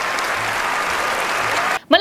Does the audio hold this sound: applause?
yes